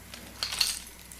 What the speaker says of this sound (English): but these are my keys